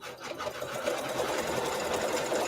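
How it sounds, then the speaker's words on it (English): A domestic sewing machine runs steadily, stitching a quilt pattern onto wool batting for a Town & Country row quilt. The motor hum and needle chatter are close and continuous, with no talking. "let's go ahead with step 3, which is us sewing the pattern onto our wool battleizer"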